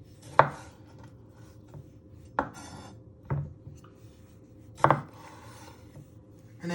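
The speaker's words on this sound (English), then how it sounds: "You just want to chop them in half, like that, using your sharp knife" A sharp knife slices cherry tomatoes in half on a cutting board, with four distinct chops spaced a second or two apart, each a crisp thud against faint kitchen background, close up and with no talking.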